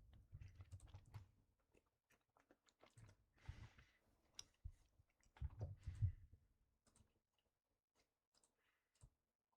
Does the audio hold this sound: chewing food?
yes